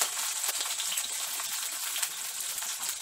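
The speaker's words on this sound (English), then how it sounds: "the mustard has begun to splutter and the lentils have turned red in color" Mustard seeds splutter in hot oil with chopped fresh green chilies and ginger, a steady close crackling sizzle with busy popping throughout and no voices.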